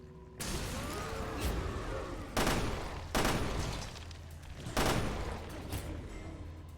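Gunfire in the video game NieR Replicant, a steady roar of shots and noise with three or four louder bursts standing out, all dense and continuous.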